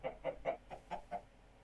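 A Minecraft chicken clucks in six short, evenly spaced bursts, fairly close and clear, with no talk over it.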